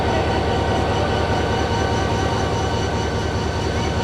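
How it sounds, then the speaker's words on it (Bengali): The Brahmaputra Express, bound for Mymensingh via Jamalpur, rolls through a crowded Bangladeshi station at Eid, a loud, close, continuous rumble of wheels and carriages with no voices. "আর এটা হচ্ছে ব্রহ্মপুত্র এক্সপ্রেস, এটা ময়মনসিংহ যাবে।"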